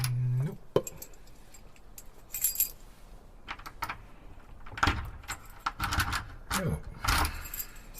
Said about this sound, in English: The keys from his pocket.